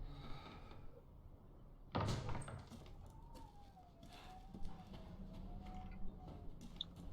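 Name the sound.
door opening in Resident Evil Village video game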